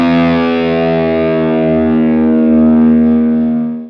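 Loud distorted electric guitar with the low E string pre-bent and slowly released, producing a sustained, heavily saturated tone that sags in pitch over several seconds, alone with no talk.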